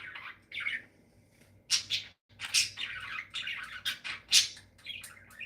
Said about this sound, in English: the birds are definitely going strong. This is pretty tame for them, actually.